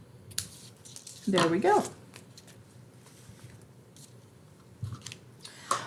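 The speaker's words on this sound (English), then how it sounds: "I'm going to use the ribbon snips. Here we go. We'll snip this here." Ribbon snips cutting paper edges on a craft project, one or two brief close snips set between pauses, with a person speaking briefly nearby.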